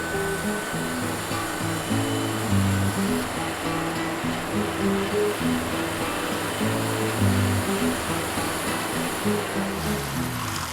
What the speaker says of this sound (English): He's fitted a series of cams to the milling machine, which changes the angle of the blocks between each cut.